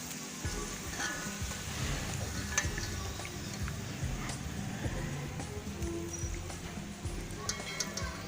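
Potato chips fry in oil with a busy, crackling sizzle and scattered taps of a utensil, steady and close for the whole stretch.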